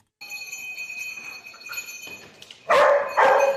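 A dog barks twice near the end, loud and close, in short sharp bursts, after a quieter stretch of background ringing tones and faint noise.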